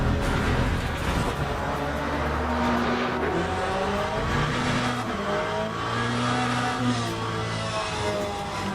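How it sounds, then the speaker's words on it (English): McLaren and Porsche race cars in the Le Mans Ultimate racing game, a continuous engine drone with rising and falling revs as the cars dice close together, steady and moderately loud throughout with no talking. "Now we've got a McLaren and a Porsche having a go here."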